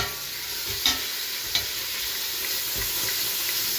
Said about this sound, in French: Donc je fais dorer les viandes.